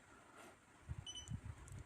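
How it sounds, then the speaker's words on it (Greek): A digital multimeter (Alientek DM40C) in diode-test mode on a Schottky diode gives quiet, quick paired beeps, two short tones close together, faint and heard alone without talk. "στη δίωδο Schottky σας είχα πει ότι θα μας κάνει δύο μπιπ ταυτόχρονα"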